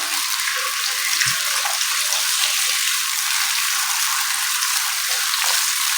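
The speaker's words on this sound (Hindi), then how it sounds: "और गरम तेल में ये मैं प्याज और सब्ज़ मिर्च का पेस्ट ऐड कर रही हूँ।" Onion and green chilli paste sizzles in hot oil in a kadhai for a dhaba-style chicken do pyaza, giving a loud, steady, continuous crackling hiss throughout.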